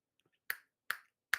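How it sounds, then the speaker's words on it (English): Three sharp, crisp finger snaps, spaced about half a second apart, loud and close with nothing else around them. "Every time I snap my fingers"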